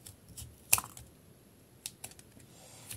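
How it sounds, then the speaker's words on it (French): Dull scissors cutting paper for a paper rosette craft, with a few sharp snipping clicks spaced irregularly, close and fairly quiet against a soft background hiss. "J'ai pas des ciseaux qui coupent bien, donc c'est dur."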